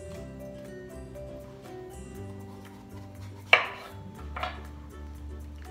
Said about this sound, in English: I'm going to take the top of this pepper and the bottom off to slice it